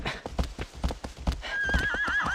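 Horse hooves clip-clop in a steady rhythm in Shadow of the Colossus, loud and close, then a horse whinnies over the last second.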